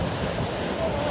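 Surging storm waves from Hurricane Teddy roaring continuously in a dense, broadband wash with wind buffeting the microphone, loud and unbroken with no clear breaks between surges.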